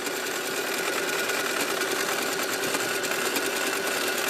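A home sewing machine runs steadily at speed for free motion quilting, a continuous dense mechanical whir and rattle, close and unbroken, with no voices.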